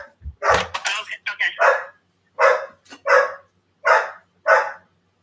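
A dog barks repeatedly at close range, first a quick burst of several yips and barks, then four evenly spaced loud barks with short silences between them.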